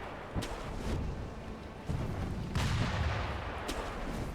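Gunfire in Sekiro: Shadows Die Twice, with a few sharp shots landing among heavy booming rumble, moderately loud and without talk.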